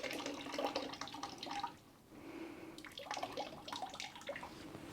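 Excess water pours out of a firm soil block tray as it is tipped, a splashing, trickling flow in two bursts separated by a brief lull, fairly quiet and close.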